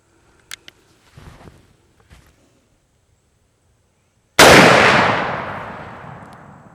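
A Henry X Model 45-70 lever-action rifle fires a single 325 grain FTX bullet. One loud, sharp report follows a few faint handling clicks, then a long echoing decay.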